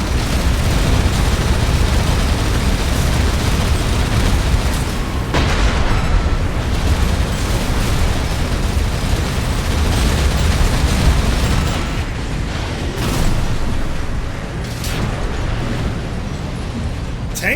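Loud, continuous tank explosions and booming blasts fill a shooter video game battle, with dense rumbling bursts overlapping throughout and sharper impacts standing out near the middle and end.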